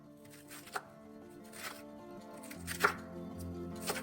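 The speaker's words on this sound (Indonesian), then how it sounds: "4 lembar kol saya iris kasar" Cabbage leaves are coarsely sliced with a knife on a board, with a handful of soft, irregular cuts and taps against quiet background noise.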